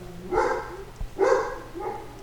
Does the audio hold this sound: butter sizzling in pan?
no